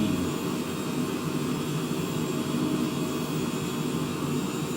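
Both turbine engines of an aircraft roar steadily during the takeoff roll from CYQU toward CYYE, a loud, continuous broadband drone with a deep low rumble and no break.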